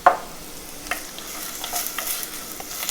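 Onion fries in a hot pan with steady crackling sizzle, a few stirring scrapes and clicks over the bubbling, close and without talk.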